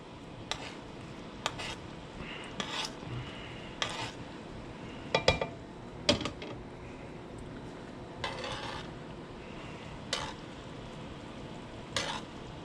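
Metal spoon scraping and tapping in a pan while salmon sizzles in it, with about a dozen sharp clinks and scrapes spread unevenly over steady frying noise.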